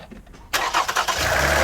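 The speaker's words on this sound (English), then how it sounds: "Let's start up the engine to see if everything works." A Toyota Highlander's 2GR-FE 3.5L V6 cranks briefly and then catches, settling into a steady loud idle at close range after a quiet start.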